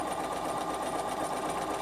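Bernina sewing machine stitching knit fabric with lace in a steady, continuous mechanical whir and rapid needle patter, close and even throughout, no voices.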